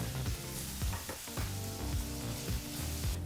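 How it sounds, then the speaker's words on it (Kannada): Onions frying in a pan over a medium flame, a steady sizzle with scraping stirs at regular intervals, close and alone with no talking. "ಮೂರರಿಂದ ನಾಲ್ಕು ನಿಮಿಷ ಮೀಡಿಯಂ ಫ್ಲೇಮ್ನಲ್ಲೇ ಈರುಳ್ಳಿನ ಚೆನ್ನಾಗಿ ಫ್ರೈ ಮಾಡ್ಕೋಬೇಕಾಗತ್ತೆ"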